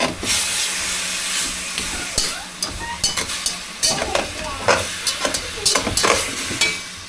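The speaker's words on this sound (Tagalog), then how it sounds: "Ginigisa ko muna yung karni" Meat sautéing in a hot pan, a dense continuous sizzle broken by frequent clattering stirs and scrapes of a utensil, loud and close.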